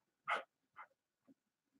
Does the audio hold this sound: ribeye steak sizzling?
no